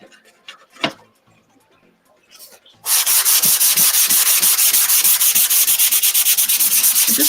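Sandpaper worked back and forth over the rough spots of a painted wooden cutting board, first a few light taps and rubs, then loud, steady rapid scratching strokes close by.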